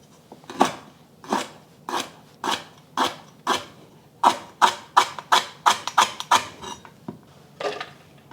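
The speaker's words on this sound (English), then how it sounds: "I'm going to chop them up before I put them in my food processor because they're really hard to chop up" Lemongrass stalks being chopped with a knife on a cutting board for a chicken satay marinade, about a dozen crisp, close, evenly paced chops, speeding up in the middle and then slowing.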